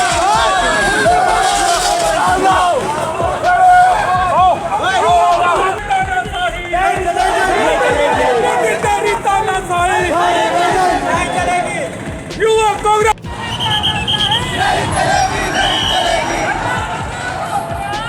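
A dense crowd at a large Youth Congress protest over the NEET-CBSE controversy, with loud overlapping chatter and shouting voices throughout and a brief dip in the din near the end.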